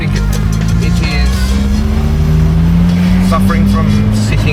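An abandoned Honda Prelude, long left sitting, runs with a loud, steady engine drone and a low rumbling hum that rises slightly in pitch, close by, with a voice talking over it.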